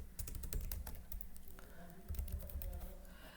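Rapid typing on a computer keyboard entering a material record, keystrokes clattering in quick, uneven bursts throughout with a low background hum.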